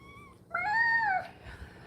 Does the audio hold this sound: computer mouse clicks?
no